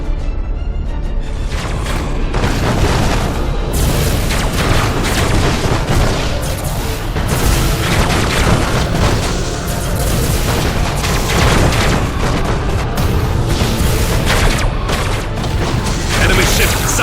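Loud, continuous rumbling blasts and booming explosions as an Imperial spaceship is destroyed in the Battlefleet Gothic Armada game, a dense roar with repeated bursts running throughout and no clear gaps.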